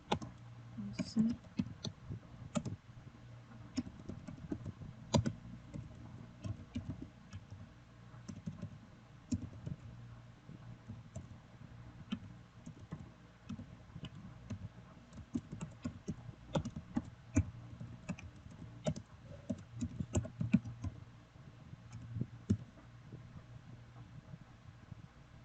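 Computer keyboard typing as data is entered into a form, with irregular bursts of soft key clicks over a low steady hum, fairly quiet throughout.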